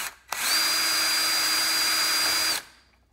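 A power drill bores through the plastic casing of an iRobot Roomba in one loud, steady whine of about two seconds, close up, then spins down abruptly.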